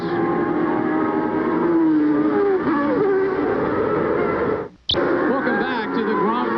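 Formula 1 race cars at the 1990 German Grand Prix at Hockenheim wail around the track, engines rising and falling in pitch in a loud broadcast mix. The sound cuts out for a moment, then returns, with commentary over it.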